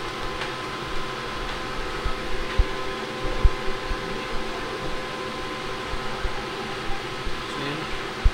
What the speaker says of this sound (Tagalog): May aircon kayo nakabukas.